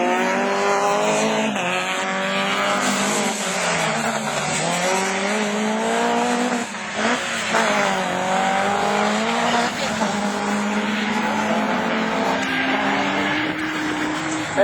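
Division 4 rallycross cars at a 2012 French championship round at Lavaré, their engines revving and shifting continuously while tires squeal, with spectators talking over the steady racing noise.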